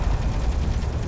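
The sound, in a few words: railguns firing in video game Space Engineers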